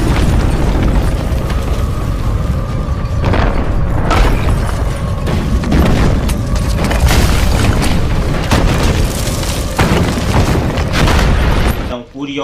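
Deep booming rumbles with repeated heavy thuds, like giant earthquake footsteps, loud and sustained before cutting off abruptly near the end, under a narrating voice.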